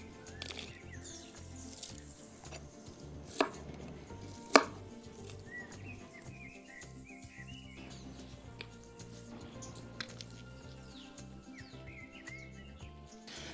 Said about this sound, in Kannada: ಇದುಂಟಲ್ಲ, ಹೀಗೆ ರೌಂಡ್ ರೌಂಡ್ ಕಟ್ ಮಾಡಬೇಕು ಅಂತ ಹೇಳಿಲ್ಲ, ಕೆಲವೊಮ್ಮೆ ಉದ್ದ ಕೂಡ ಕಟ್ ಮಾಡ್ತಾರೆ